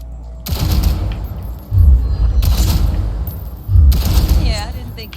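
An automatic pistol in Cyberpunk 2077 fires in three loud bursts of rapid shots, each burst with a heavy low thump and clattering echo, while game sounds continue between bursts.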